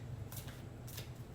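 A new, slippery deck of cards is shuffled in two quick riffling bursts over a steady low hum, close and quiet.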